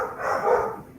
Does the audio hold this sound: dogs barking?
yes